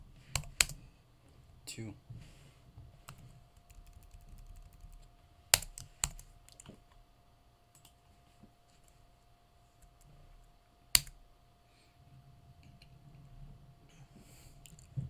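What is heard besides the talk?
typing a code comment on a computer keyboard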